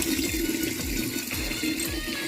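Water pours steadily and continuously into a trough for oxen to drink, a close, unbroken splashing flow with no voices over it.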